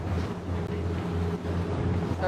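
Ocean waves wash along an island coastline beside a boat, a steady rushing roar with a low engine drone beneath and wind buffeting the microphone, close and continuous without speech.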